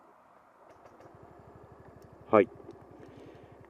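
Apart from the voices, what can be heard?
Yamaha JOG125 scooter engine starting quietly with smart motor generator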